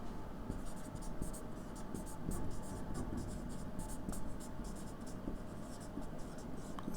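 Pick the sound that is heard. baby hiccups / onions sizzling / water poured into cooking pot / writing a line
writing a line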